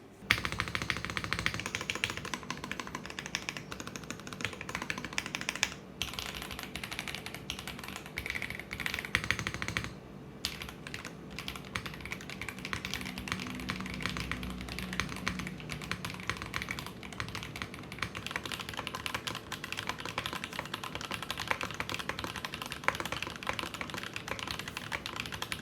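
Steady, fast typing on a Zoom TKL Dyna mechanical keyboard with a 1.6 mm PCB on an aluminium plate, with case foam but no plate foam, gives dense, continuous clacking up close.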